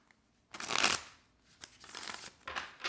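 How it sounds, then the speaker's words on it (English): A deck of tarot cards is shuffled close up in a few quick papery bursts, with a short quiet pause before the first riffle and no talking. "This is just the pre-shuffle."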